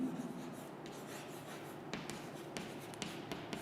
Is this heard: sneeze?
no